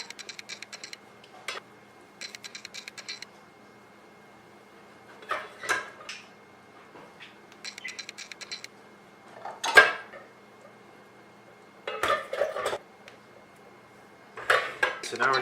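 Rice from a rice cooker is scooped into a pan and stirred, with short bursts of metal utensil scraping and clinking against cookware, separated by quiet gaps, close and moderately loud.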